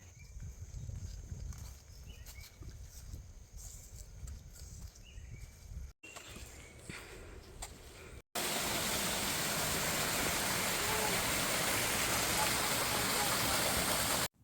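A waterfall in the Mindo cloud forest of Ecuador roars as a loud, steady broadband rush in the final stretch, after quieter outdoor ambience with faint background talk.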